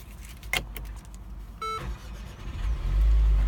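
Infiniti QX30 starting up, a few clicks and a short chime followed by the engine catching and settling into a steady low idle that grows louder toward the end.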